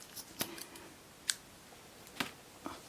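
Scissors cut through a fabric shirt sleeve for a no-sew face mask, four distinct crisp snips spaced about a second apart, close and clear with no voices.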